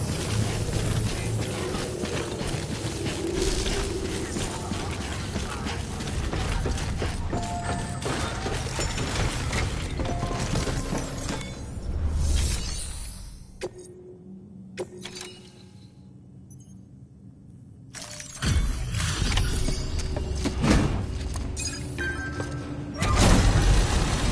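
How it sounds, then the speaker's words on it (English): Suit decontamination machinery in Death Stranding clanks and whirs with mechanical ratcheting and thuds, drops to a quieter hum for a few seconds, then resumes its dense grinding. "Decontaminating suit."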